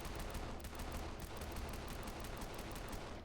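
Rapid volleys of gunfire from an angry man with a gun in the Australian outback, a dense, continuous crackle of overlapping shots filling the whole stretch with no pauses.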